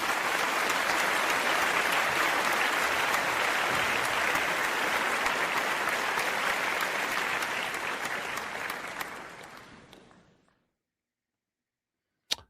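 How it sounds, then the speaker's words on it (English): An audience delivers a loud, sustained round of applause that holds dense and steady for about nine seconds, then fades and cuts to silence, ending with a brief click. "Let me take care of him with a nice round of applause."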